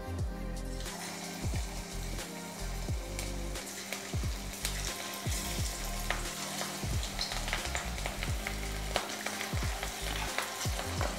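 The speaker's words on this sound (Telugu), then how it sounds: "ఆయిల్ వేడెక్కేసింది. ఇప్పుడు మనం వేసేసుకుందాం." Chicken pakodi pieces with green chillies dropped into hot oil, giving a continuous close sizzle and bubbling crackle with frequent small pops and splutters, steady and fairly loud.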